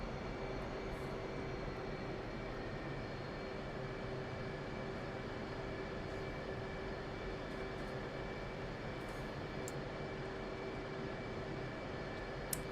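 Steady engine drone of an F/A-18C jet taxiing toward the runway in the DCS World flight simulator, a constant whine over a broad rumble with a thin high tone, with no talk.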